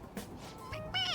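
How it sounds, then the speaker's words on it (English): A stuffed toy cat in the video game Persona 5 lets out a short electronic meow when pressed, one brief rising cry heard close and fairly quiet, with no speech. "It meows when you press on its head."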